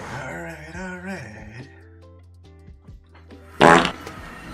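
A farming video game produces a short, loud, fart-like blast near the end, following a stretch of tonal, wavering game sounds.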